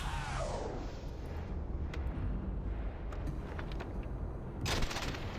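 Sharp gunshots from the video game Starfield, a loud burst at the start followed by scattered individual shots and a final crack near the end, heard over a low rumbling background.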